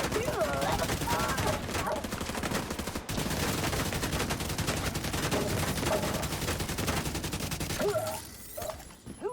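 Enemy gunfire aimed at the player in a video game, with dense rapid automatic shots rattling almost continuously for about eight seconds before thinning out near the end, while a voice talks underneath.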